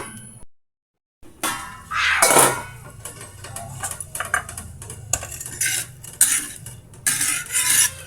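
Clattering metal on a cooking pot of simmering vegetables such as string beans in a home kitchen: a lid set down with scraping clanks, followed by several lighter irregular knocks and rattles, close and without talk.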